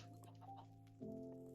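Minecraft chickens cluck in short, soft bursts on the EarthMC server, sitting faintly over steady game music with no voices.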